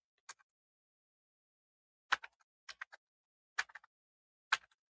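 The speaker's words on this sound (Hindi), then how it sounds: "चलिए यहाँ पे एक वैलिड मोबाइल नंबर यहाँ पे टाइप कर लेंगे 10 डिजिट का" Sparse clicks on a computer keyboard as a 10-digit mobile number is entered, with single taps and short clusters of keystrokes separated by quiet pauses, close and fairly soft.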